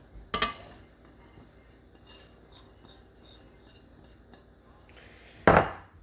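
A metal fork clatters in a home kitchen during breakfast muffin prep, with one sharp clink at the start, faint small rattles and clicks in between, and a louder ringing clatter near the end.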